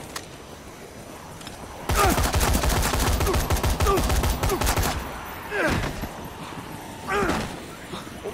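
Gunfire rings out in the zombie game Dead Rising 3, beginning with a dense three-second burst of rapid automatic shots, followed by a few isolated single shots against a quieter background.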